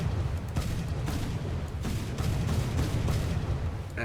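Heavy naval guns on a Japanese warship in War Thunder boom repeatedly in a dense, rumbling barrage, several deep thuds overlapping into a continuous roar that stays loud throughout.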